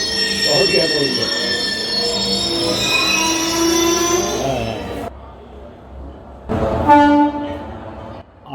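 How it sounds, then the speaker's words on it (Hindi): Trains at Kathgodam railway station, with loud squealing wheels and sustained horn blasts close by, then a brief lull before another strong horn-like burst near the end. "जो भी लोग घर से सफर के लिए निकलते हैं वो इन आवाजों से, इन हॉर्न से निश्चित तौर पर परिचित होंगे"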